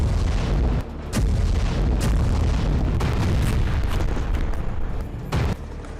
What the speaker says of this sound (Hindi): ताबड़तोड़ गोलीबारी के बीच टैंक बारूद बरसा रहे हैं।